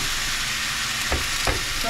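Chicken pieces sizzling loudly in hot oil in a pan for Filipino chicken curry, a dense continuous hiss close up with a couple of brief stirring bumps near the end.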